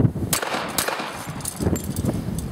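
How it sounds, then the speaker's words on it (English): A pistol fires two quick double taps at a yellow steel target outdoors, sharp broadband cracks with metallic rings, the pairs spaced apart amid background noise. "I'll shoot on the yellow one, a couple quick double taps on the yellow one."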